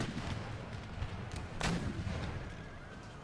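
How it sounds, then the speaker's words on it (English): Canister artillery fire in an Empire Total War battle booms out in a dense, continuous rumble of cannon and gunfire, with one sharper blast standing out midway and no voices. "See if they can get some canister fire off."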